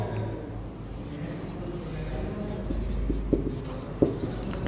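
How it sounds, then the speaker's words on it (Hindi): A marker scratches across a whiteboard in short strokes while a teacher sketches and labels the ribs during an anatomy lesson on the mechanism of breathing, with faint room noise and a couple of sharp taps. "ये इस यहाँ पे लिख देता हूँ मैं"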